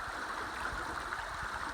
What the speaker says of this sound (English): this is the east branch of the Pleasant River